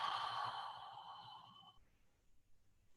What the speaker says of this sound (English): Loud exhale.